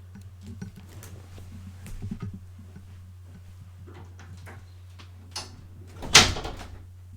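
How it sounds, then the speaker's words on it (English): Doors shut in a room, landing as one loud thump near the end after quiet background murmur, faint birdlike chatter and small knocks. "Let me close these doors."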